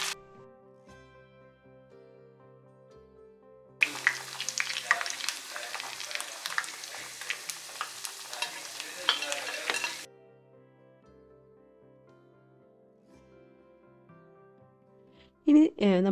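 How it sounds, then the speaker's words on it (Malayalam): Chicken pieces deep frying in hot sunflower oil give a loud, dense sizzle lasting about six seconds, set between quieter stretches of soft steady tones, with a brief clatter at the very end. "ഡീപ്പ് ഫ്രൈ ആണ് ചെയ്യുന്നത്."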